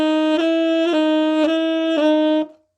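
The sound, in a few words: tenor saxophone F to F sharp crossover fingering, floppy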